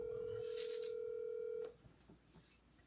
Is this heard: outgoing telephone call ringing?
yes